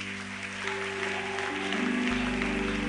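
Congregation at a church service applauding loudly and steadily, with sustained clapping and crowd noise plus low music tones underneath, growing fuller toward the end.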